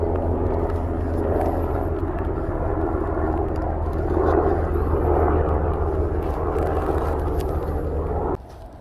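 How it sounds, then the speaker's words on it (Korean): Helicopter passing overhead in the early morning above a sweet potato planting plot, a steady low engine and rotor rumble that holds for about eight seconds before cutting away. "아침 일찍인데도 헬리콥터가 또 지나가네요"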